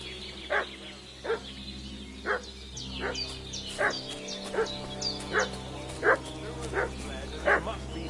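A dog in the video game Kingdom Come: Deliverance II barks repeatedly in steady, spaced yaps, about nine in all, over a low ambient game drone.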